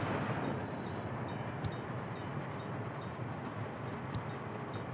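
A steady rumbling train from the Workers & Resources video game rolls continuously at moderate level, with a few brief sharp clicks breaking through the dense rail noise.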